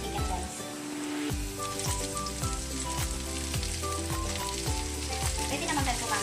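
Chicken pieces sizzle loudly in a hot pan while cooking chicken menudo, a constant crackling fry with occasional stirring scrapes and no talking.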